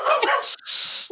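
A dog gives two short, sharp barks close by, loud and clear with a brief gap between them.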